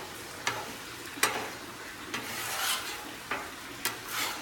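Scrambled eggs cooking on a Blackstone griddle give a steady, soft sizzle close by, broken by several short scraping strokes as they are turned and spread. Nobody talks.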